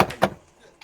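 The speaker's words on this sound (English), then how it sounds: "Let's hear that knock on the door." Two sharp knocks on a door in quick succession, loud and close, followed by near silence.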